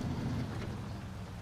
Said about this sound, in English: Nice little thunderstorm going on.